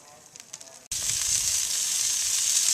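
Prime rib is set over direct heat on a smoker and erupts into a loud, steady sizzle that follows a quieter stretch of crackling.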